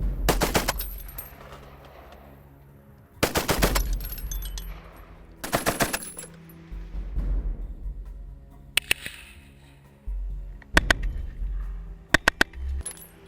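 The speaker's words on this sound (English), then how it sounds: "that I'm firing was actually manufactured during the Great War, but despite its age, it is still very deadly, attesting to the robust design of the Vickers" A Vickers machine gun made during the Great War fires in several loud, close bursts of rapid shots, with sharp single cracks and short gaps of quiet between volleys; no talking is heard.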